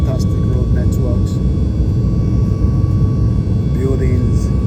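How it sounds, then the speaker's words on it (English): Airplane engines roar as a steady, loud low rumble inside the cabin on a flight heading to London, with a faint steady tone on top. "this plane is ready now to fire on all cylinder, heading to London"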